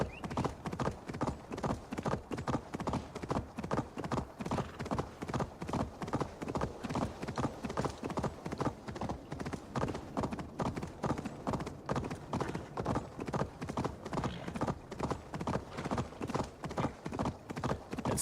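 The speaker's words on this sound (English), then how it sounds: "Ride, my steed." A horse ridden in Assassin's Creed Valhalla clip-clops at a steady trot, rhythmic hoofbeats repeating evenly and close up for the whole stretch, with no talking over them.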